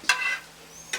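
Scrambled eggs flipped and stirred in a pan, with two short bursts of scraping and sizzle, one at the start and one at the end, separated by a quiet stretch of low frying hiss.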